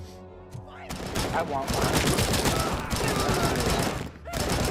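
A Cobra Assault Cannon fires in a shooter video game, a dense, loud barrage of rapid booming shots that continues for several seconds with a brief lull near the end; a voice speaks briefly just before the firing starts.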